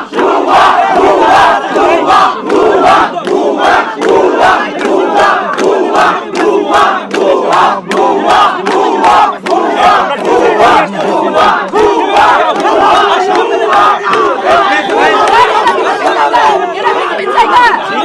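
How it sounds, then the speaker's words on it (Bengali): A large crowd of students on a campus chants protest slogans in a confrontation with border guards, loud and close, with rhythmic shouted bursts repeating over steady crowd noise and chatter for the whole stretch. "ভুয়া স্লোগান দিচ্ছে।"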